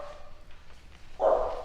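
A dog barks in a short, loud burst near the close, after a stretch of quiet room tone with no talk.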